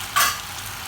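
Beef and cashews stir-fried in a pan give a single brief, close scrape of stirring over a soft steady sizzle, with no talk.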